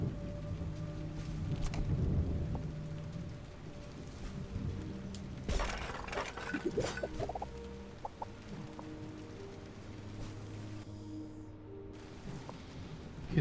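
Steady rain falling with rolling thunder in the calm exploration game Islets, a soft continuous hiss with a louder rumble midway, alone without talk.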